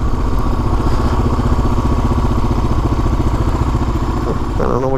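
Steady, loud single-cylinder thump of a 2006 Kawasaki KLR 650 under way on a highway, a continuous rhythmic engine drone with wind rush, close and unbroken throughout.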